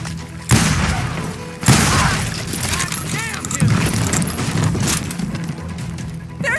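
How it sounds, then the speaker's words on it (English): Gunfire in a street shootout in the Call of Juarez video game: two sharp loud blasts early on, then scattered clanks and clatter under ongoing voices and rumbling background noise. "They're shooting in the street!"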